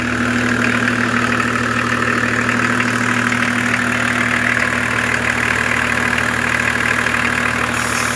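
A BMW 325 TDS diesel engine idles steadily after a cold start, a constant close rumble with a low mechanical knock running unbroken and alone throughout.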